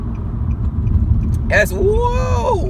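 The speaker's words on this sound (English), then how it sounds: "That car almost got me behind me" A car rumbles past close behind a person walking outdoors on a street, its engine and road noise swelling loudly under a brief spoken remark.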